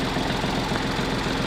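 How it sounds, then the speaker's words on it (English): A Massey Ferguson 1220 tractor engine idles steadily while warming up, a close, continuous low rumble with an even, rapid pulsing beat running throughout. "it needs to have an oil change, which is why the engine's running. It's just warming up"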